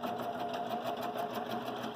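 A quilting machine stitches steadily on a Grace Cutie quilting frame, giving a continuous, fast, even mechanical whirr with a rapid pulsing rhythm and no talk.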